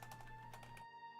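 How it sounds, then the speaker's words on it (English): Quick bursts of computer keyboard typing, a handful of close clicking keystrokes over a faint steady hum, stopping abruptly near the end. "Typing is hard at 7:23 in the morning"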